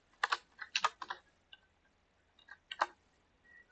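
Keys clack on a computer keyboard while Python code is typed, with quick bursts of taps, a brief pause and a few more scattered strokes, crisp and close in a quiet room.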